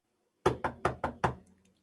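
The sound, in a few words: knock on doors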